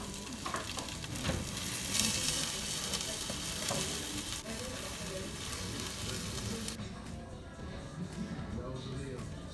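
Baked beans and ground turkey sizzle and fry in a pan, a steady close crackle with occasional stirring scrapes running the whole time, with talk over the cooking.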